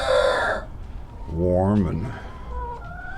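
Farm chickens kept together as one flock for winter, with a rooster's crow rising and falling in the middle amid soft clucking; a person speaks briefly over the start.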